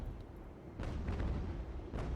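Ship cannons, a couple of chaser guns, firing in the naval game Ultimate Admiral: Age of Sail, with two dull booms rolling out at mid distance, one around the middle and another near the end, over a low rumble and no talk.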